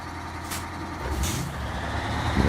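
Heavy truck engine in the SnowRunner driving game, a low steady diesel rumble with two short bursts of hissing air brake release, continuous and fairly close with no talk.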